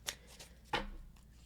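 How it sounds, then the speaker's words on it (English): A tarot card drawn from the deck during a reading, two short dry papery swipes, the second crisper, close and quiet with no talk. "So I'm actually going to draw another card."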